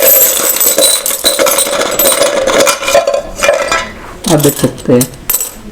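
Old Indian five-rupee coins, including a 1989 issue, clink and jingle repeatedly as they are handled at close range, with a few sharp metallic taps near the end and a brief voice speaking over them.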